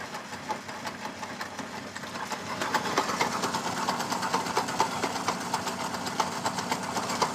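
A stand mixer with a dough hook churns flour into dough, its motor humming steadily with a rapid, regular knocking rhythm that grows slightly louder partway through.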